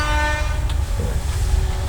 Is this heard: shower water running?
no